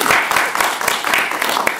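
An audience applauds at a book launch, dense and steady clapping from many hands, loud and close, with a few voices mixed in.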